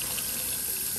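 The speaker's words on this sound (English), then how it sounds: "I'm going to wash these and get them nice and clean" Running tap water pours steadily into a sink as peppers are washed, a loud continuous hiss and splash throughout with no voices.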